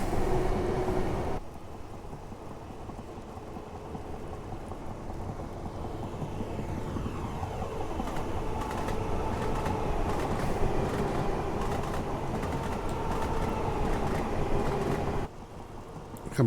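Class 442 electric train in Network SouthEast livery accelerating in Train Simulator Classic, a steady rumbling roll with a rising motor tone sweeping upward through the middle, continuous and fairly loud, no talking.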